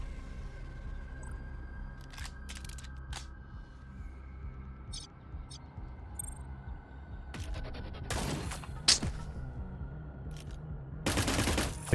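Gunfire in the video game Cyber Valkyria Delta comes in short, quiet bursts. A few scattered shots are followed by a denser rattle near the end, over a low background hum.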